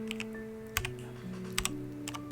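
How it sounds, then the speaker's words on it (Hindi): Slow keypresses on a computer keyboard, scattered clicks in small clusters, close and fairly quiet, with a faint tonal background hum and no talking. "सीमा धीरे धीरे कीबोर्ड के बटन दबा रही थी।"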